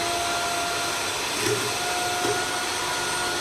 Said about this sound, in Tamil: நம்ம பீட் பண்ணிட்டு இருக்கோம்ல, உங்களுக்கு சவுண்டு கேட்குமான்னு எனக்கு தெரியல